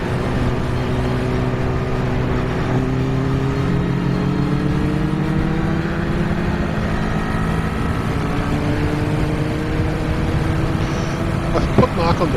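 A motorbike rides along a road, its engine droning steadily and close with slowly rising and falling pitch as it accelerates, mixed with continuous wind rush and a sharp knock near the end.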